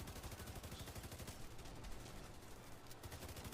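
Sustained automatic gunfire in a video game, a continuous rattling stream of shots with a brief lull near the end before the firing resumes, fairly quiet and without talk.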